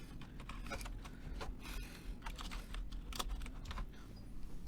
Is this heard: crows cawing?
no